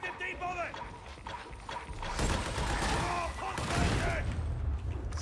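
Shots ring out in a video game, a dense stretch of gunfire and mechanical clatter that swells in the middle and carries on under a voice talking over the action.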